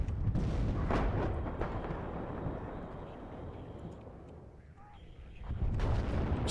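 Gunfire and artillery from the video game Warno rumble in dense, overlapping booms and cracks, ease off in the middle, then swell loud again, with voices faintly mixed in.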